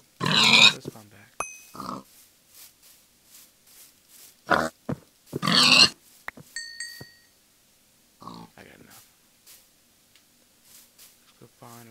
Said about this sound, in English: I know I probably should see some of these pigs, but let's come back.